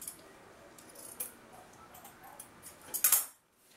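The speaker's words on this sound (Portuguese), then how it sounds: "Eu aqui vou passar uma tesoura para cortar o zíper" Scissors snip through a zipper during sewing, giving faint scattered metallic clicks and rustles that end in a brief, sharper cluster of close snips.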